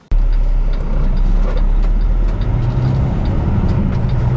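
Loaded semi truck carrying 42,000 pounds of Coca-Cola product put into gear and pulling away: a loud, steady deep diesel rumble starting abruptly, close and continuous, with a slight shift in engine tone midway.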